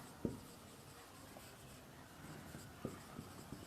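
Faint, scattered scratching and tapping of writing on a board during a chemistry lesson, a few brief strokes over a quiet room hiss, with no voices.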